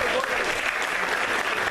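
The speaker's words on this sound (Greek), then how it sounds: "να χειροκροτήσουμε τον Παντελή Καφέ" An indoor crowd at a football school's New Year pie-cutting event gives sustained, dense applause for former Greek international footballer Pantelis Kafes, steady and loud throughout, with voices mixed in.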